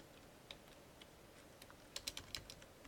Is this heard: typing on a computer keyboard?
yes